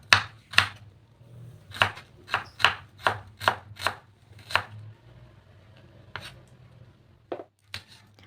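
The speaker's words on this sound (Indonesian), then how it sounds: "kita akan lanjut potong cabenya" A knife chops chili peppers on a cutting board with about ten crisp, close knocks in a quick, uneven rhythm, then a pause and a few scattered cuts.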